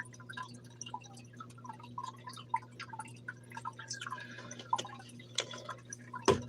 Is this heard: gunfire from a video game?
no